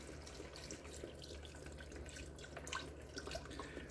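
Beef stock pours into a pot of wine-soaked mushrooms for a creamy steak and potato soup, a steady close liquid splashing and gurgling that runs unbroken for a few seconds with no talk.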